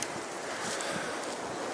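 Outdoor wind buffets the microphone in a steady broadband rush near an orchard of fruit trees, loud and unbroken throughout with no voices.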